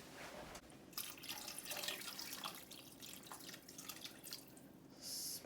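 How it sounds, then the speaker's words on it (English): Water pours and drips into a pot of navy beans, a steady close trickle with light splashing that continues throughout. "I'm just going to add just a little bit more water to this"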